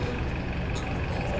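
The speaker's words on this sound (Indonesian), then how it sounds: "Nah tuh teman-teman, di belakang banyak bus Damri cuy." Steady low rumble of Damri buses idling and moving around a bus stop, a dense continuous engine drone with no talk.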